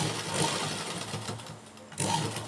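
A sewing machine runs steadily while stitching a folded hem on a garment, a close continuous mechanical whir that dips briefly in the middle and then resumes at full speed.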